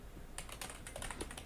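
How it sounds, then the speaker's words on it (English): Typing on a computer keyboard in the background, a quiet, steady run of soft key clicks with no talk over it. "I like the sound of the keyboard"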